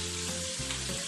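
Beancurd skin rolls fry in hot oil with a steady, close sizzle and crackle, turning golden, a low hum running underneath and no talk.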